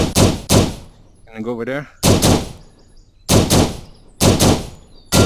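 Several loud, close gunshots at a steel popper target in the VR shooting game PractiSim, in quick pairs and singles spread across the clip, with a short burst of speech between shots.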